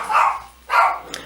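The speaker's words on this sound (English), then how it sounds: "sorry, that's my dogs." Dogs at home give two short, sharp barks close by, with a brief pause between them and no talking.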